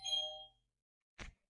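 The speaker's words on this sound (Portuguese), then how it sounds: "Vocês viram, campainha." A doorbell chime rings out as a single bright, ringing tone that fades within about half a second, followed by a brief, softer knock-like burst a moment later, with no talking.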